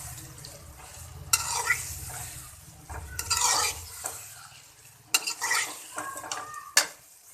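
A spoon scrapes and clanks against a pot while chicken and roughly chopped tomatoes sizzle together in a Torai vegetable and chicken curry. The bursts of stirring are irregular and come over a soft background sizzle.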